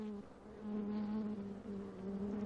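Honeybees buzz steadily close by, a sustained droning hum with a clear pitched tone that swells slightly and wavers, with no voices over it.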